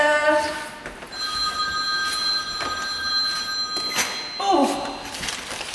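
A telephone bell rings in repeated bursts in a shop, ringing fairly close with a steady tonal chime against background room noise.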